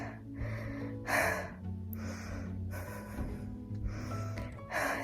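Heavy, rapid breathing from a woman out of breath after running, several loud gasping inhales and exhales in close succession, near and alone without speech.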